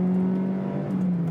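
A car engine revving on a Top Gear test-track lap, a steady mid-pitched drone holding then dipping slightly in pitch, loud and close with no talking.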